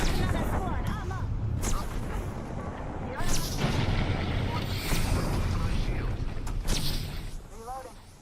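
Loud, dense video game gunfire and booming artillery-like blasts fill a chaotic firefight. The rapid bursts overlap one another without a pause, with heavy rumbling impacts underneath.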